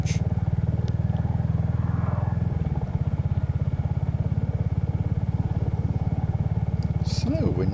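A Royal Enfield Hunter motorcycle out riding, its engine thumping in a steady fast pulse up close throughout, with a brief rev change midway and a voice talking over it.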